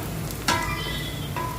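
Chopped onions sizzling in hot oil in a pan for a pepper chicken curry: a continuous, close crackling fry with a brief stirring scrape partway through.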